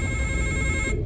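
Telephone ringing with a steady electronic tone held throughout, fairly loud and close, cutting off near the end; no voices.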